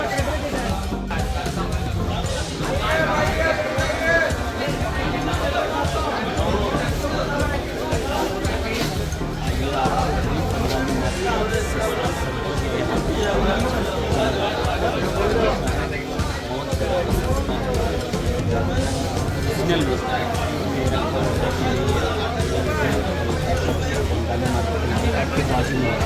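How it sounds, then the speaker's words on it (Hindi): Dense crowd chatter and babble at a busy Bangali market in Abu Dhabi, a continuous din of many voices at close range. "मार्केट काफ़ी लंबी मार्केट है, दिखा नहीं सकते और बहुत भीड़ होता है यहाँ पर"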